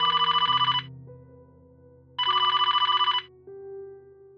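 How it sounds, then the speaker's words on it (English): An old landline telephone on a desk rings in two loud bursts of rapid electronic trilling at close range, separated by about a second and a half of quiet hum. "At 3 a.m., the old landline on the desk rang."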